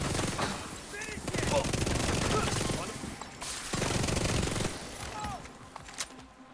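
SMG 9A2 submachine gun fire in a shooter game, rapid automatic bursts rattling in long sustained strings with brief pauses between them, over background game noise.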